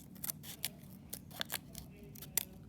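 Scissors snip through paper, cutting butterfly wing shapes for a mixed-media collage; several quiet, separate crisp snips come at irregular intervals, close by, with no voices.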